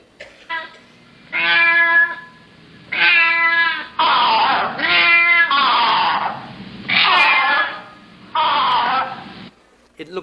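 Two cups worked to imitate a pair of male and female cats, giving a close, loud run of six wailing meows and yowls of varying pitch, some back to back, with only brief gaps between them.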